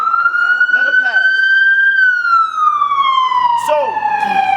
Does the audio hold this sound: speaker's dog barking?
no